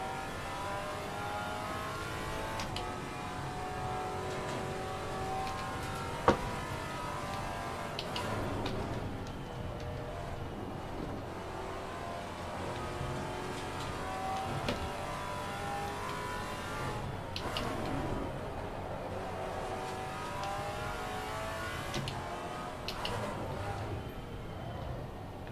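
A GT4 race car engine in Assetto Corsa Competizione revs and shifts through gears continuously, rising and falling in pitch under braking and acceleration, with occasional small clicks and no talking.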